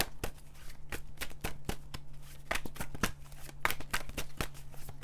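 Tarot cards are shuffled by hand for a pick-a-card reading, giving a quick irregular series of crisp riffling slaps and flicks, close and fairly quiet, with no talking.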